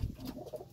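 A pigeon coos softly at its own reflection in a mirror, a low throaty murmur that stays brief and close, with no talk over it.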